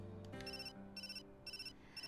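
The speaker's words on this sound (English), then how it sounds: "Suddenly my phone beeped with an email notification" A phone email notification beep from the Hakuoki visual novel, a repeated bright electronic chime pulsing four times in a steady rhythm over soft background music, with no voices.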